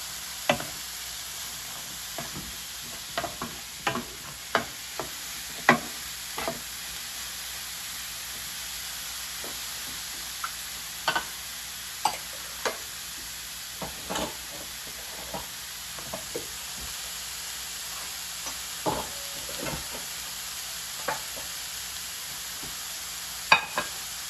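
Cauliflower rice sizzling and frying in a pan, a steady hiss of moderate loudness broken by frequent sharp pops and crackles throughout, with no voices.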